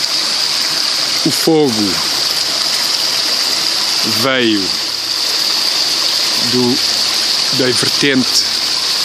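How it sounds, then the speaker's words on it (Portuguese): A stream in the Mata da Margaraça valley gushes in a steady, loud, broadband rush throughout, with someone talking intermittently over the flowing water. "Ribeira no vale da Mata da Margaraça"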